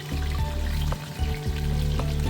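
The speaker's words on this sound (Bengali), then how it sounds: "মাছটাও ভাজা বসিয়ে দিয়েছি" Close, continuous sizzling of rohu fish frying in hot oil, with a dense crackling hiss and a few soft clicks and taps.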